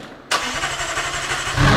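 A Lamborghini LT supercar engine firing up: a sharp catch of the starter, then a loud, close, rumbling idle with rapid pulsing throb that swells slightly at the end.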